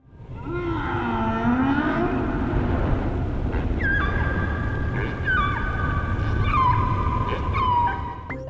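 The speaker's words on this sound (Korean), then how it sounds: "혹등고래 소리입니다" Humpback whale song recorded deep underwater: long, rising and falling moaning calls followed by higher sustained tonal wails that sweep downward, repeating several times over a steady low rumble of water, with no voices.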